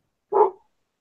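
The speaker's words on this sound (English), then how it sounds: "You better shut that pup up." A single short, close bark from a pup, sharp and fairly loud, then silence.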